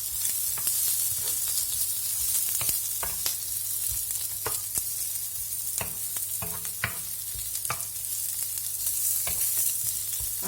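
Chorizo frying in a pan gives a steady sizzle, with scattered clicks and stirring scrapes over a constant hiss and a low hum.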